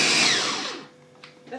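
A food chopper gives one short pulse through strawberries for jam, a loud motor whir that winds down over about a second, followed by faint clinks, with no talking.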